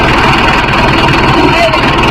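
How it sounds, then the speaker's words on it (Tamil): Mahindra 605 S tractor engine idling with a steady, continuous diesel rumble that holds level throughout, close by, with a voice speaking over it. "தெரியுதா வண்டி சவுண்ட் மாறுறது?"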